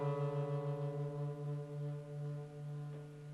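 Open D (fourth) guitar string sounding slightly out of tune against a reference D note, a sustained steady tone with a slow wavering beat that gradually slows.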